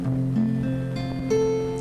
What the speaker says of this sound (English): so just give this chord a strum.